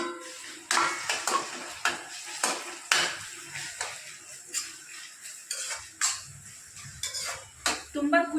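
Chopped tomatoes going into a pan of cooked onions, followed by a steady run of metal spoon scrapes and clinks against the pan, repeated roughly every half second, close and fairly quiet.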